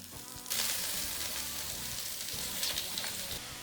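Onions sizzle loudly in a hot pan while tofu waits to be added, a steady crackling hiss kicking in abruptly and holding close and bright throughout, with no talk over it.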